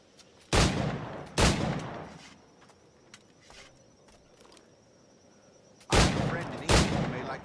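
Gunfire in Assassin's Creed IV Black Flag, four loud close shots in two pairs with quiet clicks and rustles between them and no talk.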